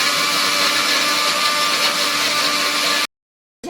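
A kitchen mixer grinder runs loud and steady, crushing sugar and lemon into a paste, a harsh continuous whir that cuts off abruptly near the end before briefly starting again.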